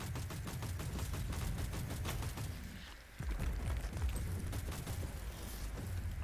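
Machine gun fire in a video game, rapid rhythmic bursts of shots rattling loudly and continuously, with a brief lull midway before the firing resumes.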